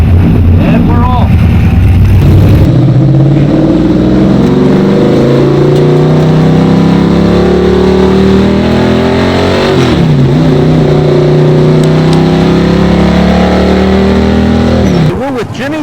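A NASCAR stock car on the Monster Mile track roars loudly and close, its engine note climbing steadily as it accelerates through the gears, with a continuous heavy rumble throughout and a voice briefly audible over it.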